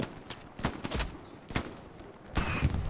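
Bursts of automatic weapon fire in Hell Let Loose crack out irregularly during a tournament match at Omaha Beach, several sharp shots and a denser burst near the end over a noisy battlefield.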